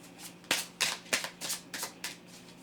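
Tarot cards are shuffled for a reading, a close run of about seven crisp riffling bursts in a quick steady rhythm, alone without talk.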